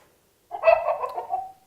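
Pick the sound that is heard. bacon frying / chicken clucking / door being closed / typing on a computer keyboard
chicken clucking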